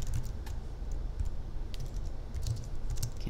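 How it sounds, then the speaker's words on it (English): Rapid typing on a computer keyboard, close and steady with quick irregular key clicks throughout, no speech. "Can't type."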